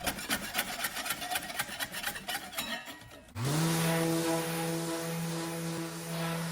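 Veneer scraped off a mid-century wooden dresser: rapid rhythmic rasping strokes for a few seconds, then they stop and a steady tonal mechanical whine with a low hum takes over.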